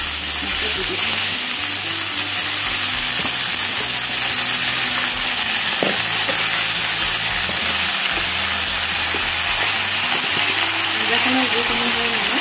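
Fish fries in a pan with chopped roselle leaves added for an Assamese fish curry, a loud, steady sizzle running the whole time while someone talks over it.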